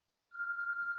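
A telephone ringtone starting abruptly, a single steady electronic tone held for under a second, fairly faint with no other sound around it.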